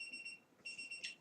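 A timer alarm goes off in faint repeated electronic beeps, two short pulsed bursts separated by a brief gap, with no talking.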